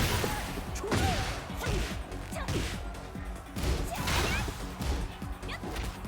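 Heat Smash attack in the fighting game Tekken 8, a run of heavy impact crashes and whooshing swings in quick bursts, loud and close, with game effects layered throughout.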